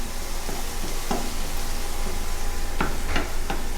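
Crushed garlic fries in a pan over a medium flame, giving a loud, steady close-up sizzle with a few sharp knocks and scrapes from stirring.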